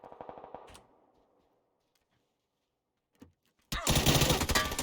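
Gunfire in a PUBG esports match: a rapid burst of automatic fire, a near-silent gap with a faint crack, then a loud dense volley of shots.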